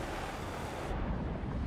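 Water currents surge in a video game scene, a steady, full rush of churning water with deep low rumble, continuous and fairly loud with no voices.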